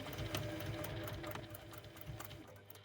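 A sewing machine backstitches a few stitches on quilt binding, giving a fast, rhythmic mechanical whir and ticking needle pattern, fairly quiet and steady, with faint room noise.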